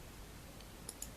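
Computer keyboard typing: a couple of sharp, close clicks after a near-silent pause, quiet and isolated, with no talk.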